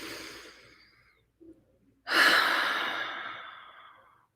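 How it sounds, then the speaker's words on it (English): A single deep breath during a guided meditation: a soft trailing exhale, a brief pause with a small catch, then one long, close, audible breath that swells and slowly fades out, with no speech over it. "Take one more deep breath"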